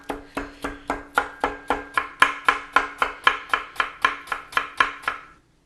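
A chef's knife chops food on a cutting board in a steady, even rhythm of about seventeen close, crisp strokes over several seconds, then stops, with no voices.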